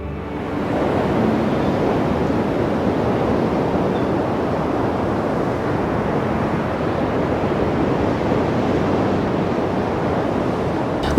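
Surf waves breaking at Nazaré, a continuous, dense roar of crashing water with wind mixed in, steady and loud throughout.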